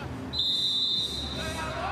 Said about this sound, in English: As the half-time whistle goes, it is goalless at the Jahn Stadion